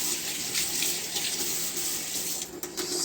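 Tap water runs steadily into a kitchen sink while a knife is rinsed under it, a continuous close hiss and splash with a short disturbance near the end.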